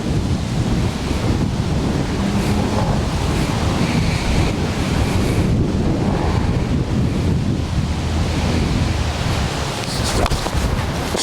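Strong wind sweeps across an outdoor golf course and buffets the microphone, producing a loud, continuous roaring rumble with gusting swells and no talking.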